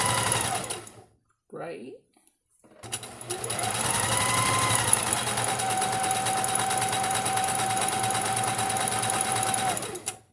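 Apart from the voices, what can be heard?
sewing machine stitching a patchwork quilt square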